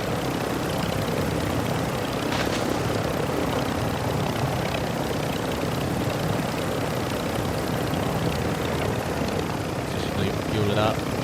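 A helicopter drones in the video game DMZ with a constant, loud rotor and engine roar that fills the whole stretch, with faint voices beneath it.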